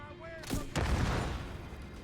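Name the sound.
grenade explosion in The Division 2 video game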